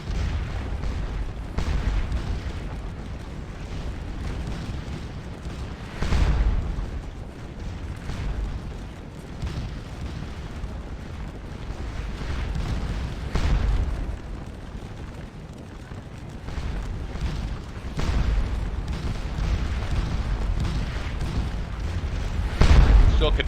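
Musket volleys and artillery fire from the Napoleonic battle game Scourge of War: Waterloo, a continuous rumbling barrage with repeated deep booms rising above rolling crackle at middle distance.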